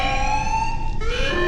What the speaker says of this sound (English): Alarm. Structural damage. Warning.